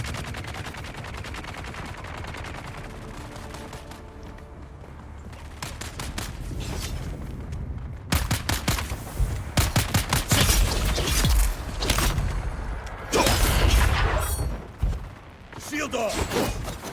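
Gunfire in Dune Awakening starts as faint distant shots, then swells into loud rapid bursts and crackling volleys, with someone talking over parts of it.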